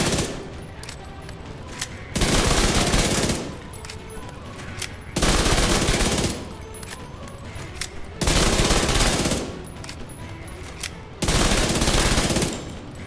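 SMG gunfire in The Division 2, sustained automatic bursts in four loud blocks of about a second each, separated by quieter stretches of game ambience.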